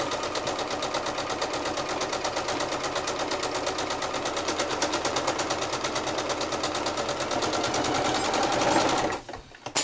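Sewing machine top stitching a lined tote bag with white thread, a steady rapid mechanical chatter running loud and close almost the whole time, stopping abruptly near the end.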